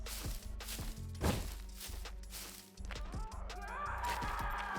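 An enemy in the survival game SCUM pounds on a wooden barn door, giving irregular thumps and knocks amid busy in-game ambience. A sharper crash-like hit rises partway through, and no voices are heard.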